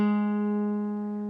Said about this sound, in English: place your pointer finger on the 7th fret of your D